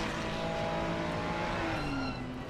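A Ferrari race car in a racing video game weaves to warm its tires, a continuous loud engine drone with shifting pitch and faint tire squeal, no talking.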